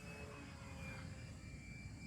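An FMS Ranger 850mm ready-to-fly RC model airplane flies overhead, its motor a faint, steady drone that holds evenly throughout with no voices.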